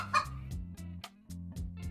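A chicken clucks in a quick, rhythmic series of short, close clucks over a low steady musical hum, about seven or eight pulses in under two seconds.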